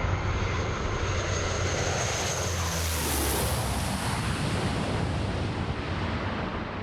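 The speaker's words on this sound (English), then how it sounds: "We are now going to bring the plane into land" A fixed-wing plane comes in to land on a road during a film stunt, its engine a loud, steady roar with broad rushing noise that swells slightly in the middle and holds close for the whole stretch.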